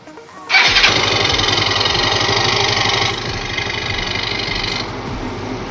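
A Yamaha Mio i 125 scooter engine cranks and catches, then settles into a steady, close, loud idle with a buzzing, even rhythm that drops slightly in pitch partway through; no talking.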